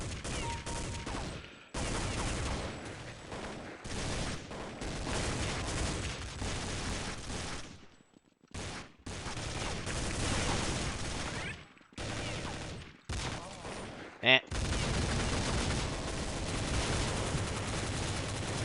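Rapid bursts of Beretta pistol fire and other gunshots in Counter Strike: Condition Zero, dense loud cracks in clusters broken by short pauses, with one sharp louder blast near the end.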